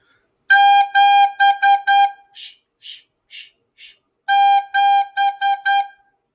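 A single recorder sounds the note G in a repeated rhythmic figure: bursts of bright, clear toots, then a short stretch of soft, airy breaths, then another round of firm notes. It is close and solo.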